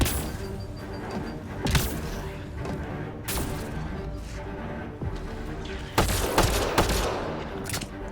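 Video game gunfire, sharp bursts of shots at irregular intervals, several clustered rapid volleys standing out loudly above a low background, with a voice talking between them.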